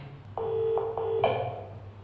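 A telephone keypad is dialled, giving a few separate tones in a short sequence, close and clear against a quiet background hum.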